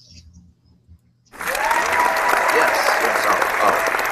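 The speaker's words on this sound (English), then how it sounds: "Let's give us all a big round of applause, everyone." Studio audience applause closing a Muppet Show Rewound episode, bursting in suddenly after a quiet start and holding as a loud, dense, steady wash of clapping to the end, with a voice faintly under it.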